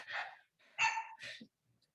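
A dog barks indoors in three short, muffled bursts, somewhat distant and fairly quiet, with silence between them.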